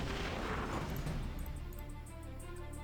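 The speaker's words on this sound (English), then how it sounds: "Fire the mini tank at that guy." A mini tank fires in the strategy game Battle Nations, heard as a heavy booming blast that rumbles and decays over a few seconds, followed by faint metallic ticks.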